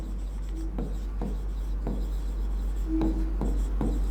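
A teacher writes on a board in a chemistry class, with a run of short scratchy strokes at an irregular pace, close and fairly loud over a steady low hum.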